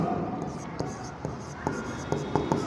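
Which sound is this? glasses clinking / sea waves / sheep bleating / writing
writing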